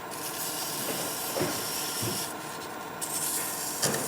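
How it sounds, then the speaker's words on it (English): Sandpaper rubbing against a turned wooden acorn box on the lathe, a steady close hiss with brief louder scuffs as pressure shifts, continuous and alone. "Sand it now, won't be able to get at it easily later."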